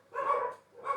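Dogs bark in two short, yappy bursts about half a second apart, moderately faint and somewhat distant, with no talking.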